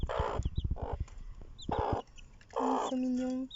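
A mother hen and her seven young chicks cluck in a garden coop extension, with short bursts of clucking broken by pauses, close by, and some soft talking in between.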